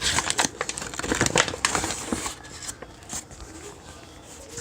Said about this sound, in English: I'm gonna mix this bread flour